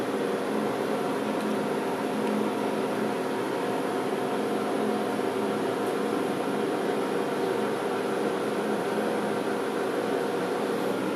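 A Cuisinart DGB-1 single-cup coffee maker brewing, giving off a constant close whirring hiss and hum that stays level throughout with no breaks.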